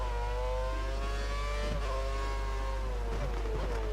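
Engine of a Lotus race car in the F1 2013 racing game at the Singapore round, held under steady throttle with a high sustained whine that rises slightly and wavers, loud and continuous with no talk.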